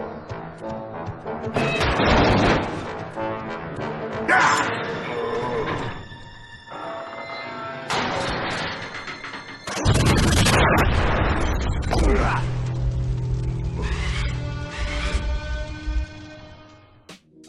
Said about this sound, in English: he runs into a gasoline sign that falls on the gas station and it explodes